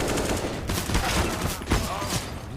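Gunfire in a professional Counter-Strike match at DreamHack Masters Dallas, dense overlapping shots forming a continuous loud barrage with sharper bursts near the middle and end, mixed with a faint voice.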